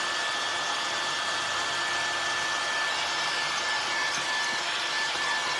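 A hair dryer blows steadily and close by, drying paint on a wooden farmhouse-style fall cat craft, a continuous airy whoosh with a faint high whine and no speech.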